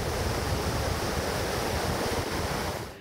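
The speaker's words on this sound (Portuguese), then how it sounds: "A força da água desta cachoeira impressionou." Rushing floodwater pouring down a waterfall during a flood that swept into homes near Angra dos Reis on Rio de Janeiro's southern coast, a loud, steady, dense roar of churning water that holds nearly constant before fading at the very end.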